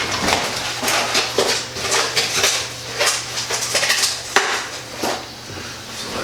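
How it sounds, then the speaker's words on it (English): A whisk clatters quickly against a bowl while an egg wash for a pork Wellington is beaten, a busy, close and steady metallic rattle with a few sharper knocks and no talk. "So let's make a quick little egg wash there."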